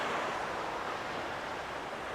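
Steady ocean waves wash over a stony shore on a calm morning, a continuous close rush of surf and water over stones with no voices.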